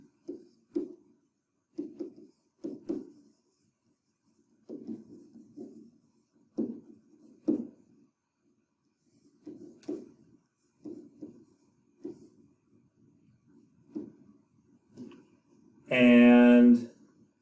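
A pen or marker writing out a geometry proof about congruent triangles, with soft, intermittent scratching strokes in short bursts and pauses, followed by a loud squeaky stroke near the end.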